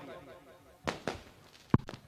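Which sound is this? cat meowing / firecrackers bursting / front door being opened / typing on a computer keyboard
firecrackers bursting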